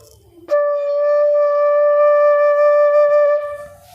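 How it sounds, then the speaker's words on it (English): A D-scale flute sounds one steady, clear sustained tone lasting about three seconds, bright with overtones, played alone with no talking. "This is the sound of D scale."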